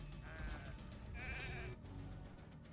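Sheep bleats in Raid: Shadow Legends, a wavering cry at mid-clip set against dense, loud game music and effects.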